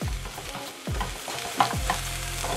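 Vegetables sauté in a pan beside a New York strip steak dish: an even, close sizzle runs throughout, broken by a few quick stirring scrapes and light clatters, with no voices.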